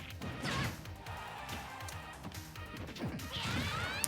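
A forward smash attack lands in Super Smash Bros., a heavy crashing hit amid busy game noise, whooshes and impact sounds, with no one talking.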